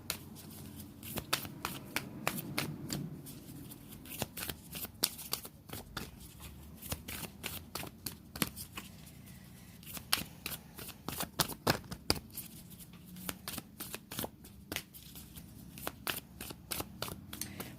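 Sacred Destiny Oracle cards are shuffled by hand over and over, giving close, crisp riffling slaps and flutters in an irregular rhythm that runs through the whole stretch.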